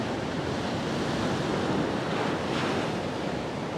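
Sea surf breaking against rocks on the shore at Salcombe, Devon, a steady loud wash of broadband noise with wind buffeting the microphone, no voices.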